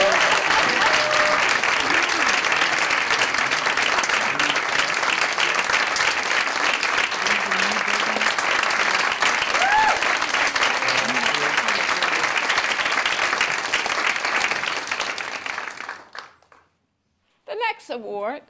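Audience applause at the MLK Social Justice Awards ceremony, a dense, loud, steady clapping from a crowd that sustains for about fifteen seconds before fading out, with a brief voice at the end.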